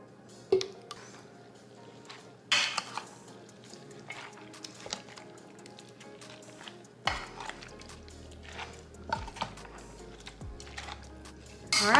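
Aguachiles verdes are stirred in a bowl with a utensil, giving soft wet squishes and a few sharp clinks against the dish, close and quiet with no talking.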